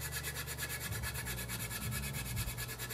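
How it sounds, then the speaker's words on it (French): Abrasive rubbing on a Mirage 2000C plastic scale model with a sanding flex, a steady close scratchy friction with uneven strokes, no talking. "On va poncer avec le flex."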